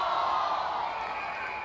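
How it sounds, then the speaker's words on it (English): A sparse crowd yells and shouts at an Australian football match between the Brisbane Lions and Redland, a steady, somewhat distant wash of voices with no single clear call standing out. "You can hear this, the sparse crowd getting a little bit vocal"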